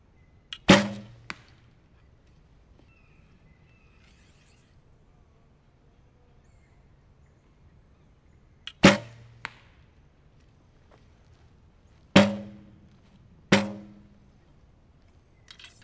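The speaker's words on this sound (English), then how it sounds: "Shoot a few arrows to warm up first." Four arrows are loosed from a Win&Win recurve bow fitted with WIAWIS MXT-XT limbs, each a sharp, close snap with a brief ringing decay, spaced several seconds apart with near silence between shots.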